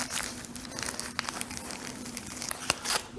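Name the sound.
pulling the tab on a plastic onigiri wrapper, crinkling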